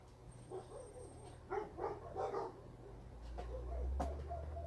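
Dogs bark in a room, a cluster of several muffled barks and yips in quick succession in the middle, fairly faint, followed by quieter sounds and a low rumble.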